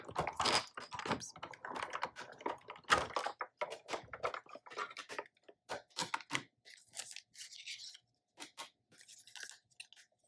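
Sizzix die-cutting machine cranking a Christmas gift tag through, a dense run of crisp clicking and crunching strokes at close range that thins into scattered, sparser clicks near the end.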